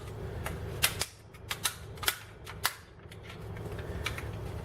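Takara MD-06 Shockwave Transformers toy being folded, a rapid series of sharp plastic clicks and snaps, close and fairly loud, coming in irregular bursts with brief pauses, no talking.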